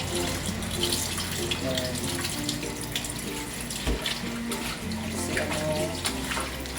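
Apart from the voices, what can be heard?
tap water running while washing chicken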